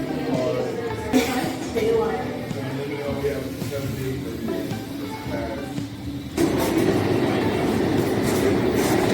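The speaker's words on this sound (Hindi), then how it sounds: "अब हम सबवे स्टेशन में जा रहे हैं।" A New York subway train in the station, a steady rumble with clattering wheel sounds, growing louder and closer in the final few seconds, and voices talking throughout.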